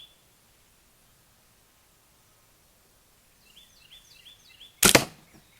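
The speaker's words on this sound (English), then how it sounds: "we're going to shoot it out of our 45-pound bow" An arrow carrying a 100-grain Toxic broadhead is shot from a 45-pound bow, a single sharp, loud thump of release and impact after several seconds of near silence with faint bird chirps.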